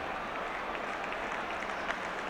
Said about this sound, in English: but the crowd applaud nonetheless